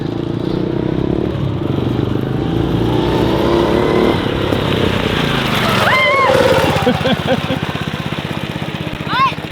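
Small engines of an old four-wheeler and a go-kart run steadily close by outdoors, a continuous rattling drone with some revving, while people talk over it partway through.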